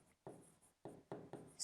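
Chalk or marker scraping across a board in a physics lecture: four short, close scratchy strokes in quick succession, separated by brief pauses, with no voice.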